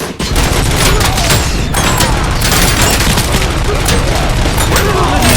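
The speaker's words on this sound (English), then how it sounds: "Where the hell did you throw that grenade" Loud, dense video game combat from Robocop Rogue City: constant gunfire bursts and booming grenade blasts pile up without a break, with a voice faintly underneath.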